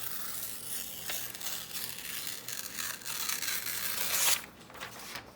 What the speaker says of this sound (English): I'm going to tear this.